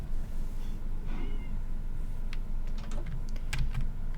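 A cat meows in a blocky Minecraft-style hardcore survival world, a short harmonic call mid-clip over a steady low ambient bed, followed by scattered light clicking taps.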